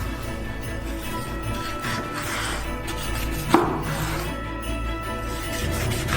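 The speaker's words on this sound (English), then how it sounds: "Now we'll cut our persimmon into cubes." A knife cuts ripe, dense persimmon into cubes on a board, giving soft repeated thuds with one sharper knock midway, close and steady under a constant low background hum.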